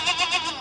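A goat bleats in a wavering, tremulous cry that fills the whole moment, close and fairly loud, with no talk over it.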